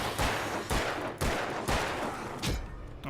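Gunfire in the video game Alan Wake, a string of loud, close shots in bursts about half a second apart, each with a sharp crack and a short rumbling tail, no speech.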